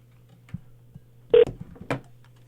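Telephone keypad tones during a call to an automated medical alert line, a few soft clicks and then two short, distinct beeps with a steady low hum underneath.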